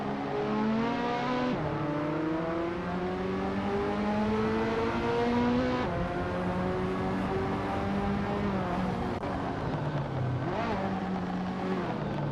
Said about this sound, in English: XL Tilgix is driving a 1983 Honda City Turbo 2-Test T.